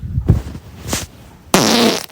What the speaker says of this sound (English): And this guy has been leaving multiple messages, and they're real farts.